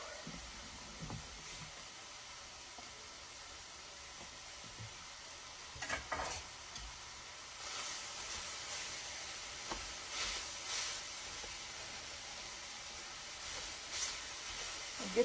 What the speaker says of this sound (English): we're going to brown up this meat